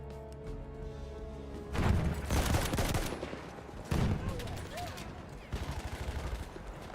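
Bursts of automatic gunfire in a video game objective match, loud rattling volleys coming in several clusters over steady game ambience, with a voice speaking over parts of it.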